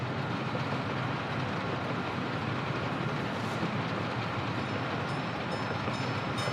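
Trains running in the Soviet-era city-building game Workers & Resources: Soviet Republic, a steady dense rumble of rolling rail wagons with faint clickety-clack and occasional high metallic squeals, continuous and loud with no talk.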